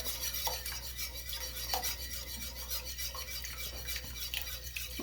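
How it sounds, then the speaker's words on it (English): Eggs being stirred slowly into milk for homemade rice cereal, a steady soft scraping and swishing of a utensil in a bowl with occasional faint clinks, continuous and close under a constant background hum. "So I'm going to go ahead and add these eggs slowly"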